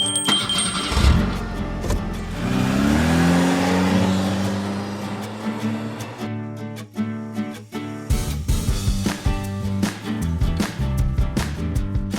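A car driving up a narrow paved mountain road through forest near Pachmarhi, heard from inside: a steady engine drone rising and falling with gear changes, followed by bumps and rattles in the second half.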